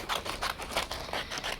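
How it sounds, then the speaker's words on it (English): Paper is snipped along a drawn black outline of a monster, a steady run of quick, close scissor crunches repeating about every fifth of a second with no pause or talking. "So I'm going to use my scissors and go right around the outline of the monster along the black line"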